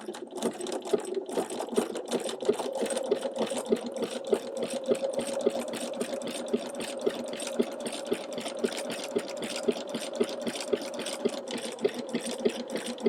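A sewing machine stitching a dense satin-stitch zigzag for tulip appliqué, a steady fast needle chatter with a constant motor hum, fairly quiet and close, running without pause and with no talking.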